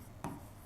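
A marker or chalk scratches one short stroke across a board in a lecture room, faint and brief against quiet background hiss.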